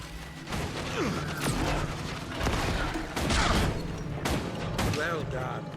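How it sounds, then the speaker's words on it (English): Rifle gunfire in the video game Guild Wars 2, a run of sharp shots and impacts mixed with combat effects, clashing and game music, with people talking over the action. "the rifle is great for dealing with things at long range, which is why I'm kind of sticking with that mostly"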